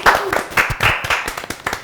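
A small group claps for Amalia in a short burst of close, uneven hand claps, with a voice briefly heard among them.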